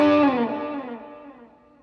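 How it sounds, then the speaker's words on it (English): A Gibson Les Paul Deluxe goldtop from the Norlin era, played through an Echoplex tape echo, rings out as a single distorted chord, with harmonics and repeats slowly fading over a couple of seconds. "the real tape echo"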